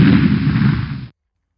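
A single explosion sound effect dropped into a physics lesson, a heavy low rumbling blast sustained for about a second and then cut off abruptly into silence, with no talk over it.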